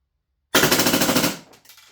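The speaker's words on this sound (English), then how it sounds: "Let's see if we can get a rate of fire on this." A Krytac Maxim 9 gas blowback airsoft pistol fires a rapid, loud burst of closely spaced shots lasting under a second, with a short trailing hiss and mechanical clatter after the burst ends.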